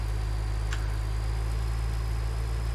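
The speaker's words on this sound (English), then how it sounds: "Take the tractor out drifting a little bit." Tractor engine running steadily while driving through snow in Farming Simulator 19: a constant low drone and hum, continuous and close, with no talk and no change in rhythm.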